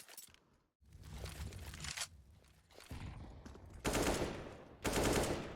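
Bursts of gunfire in a CS:GO match between Galaxy Racer and MAD Lions, loud broadband volleys and rapid shots with a final pair of heavy bursts, plus scuffling movement between them.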